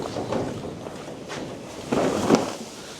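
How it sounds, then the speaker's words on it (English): Wind buffets a barn roof during a blustery day of firewood splitting, a steady rushing, gusting noise with a couple of stronger swells and faint rattling surges, close to the microphone. "Hear the wind rattling the roof of this barn"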